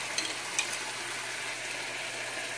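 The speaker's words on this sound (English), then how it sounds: "Give it a little bit for the butter to melt and everything, and saute." Chopped onion and green pepper sauté in melted butter in a pan, giving a steady, even sizzle with a couple of faint clicks near the start and no voices.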